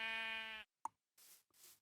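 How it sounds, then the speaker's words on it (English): A video game sheep gives a short, clear bleat, followed by a soft plop and a couple of brief noisy bursts, quiet overall and with no talk. "I'm going to kill a few sheep because there's a lot of them"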